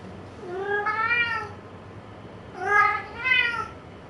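A cat in a mystery video game meows twice, a drawn-out cry followed after a pause by a pair of quicker, brighter meows over a quiet background.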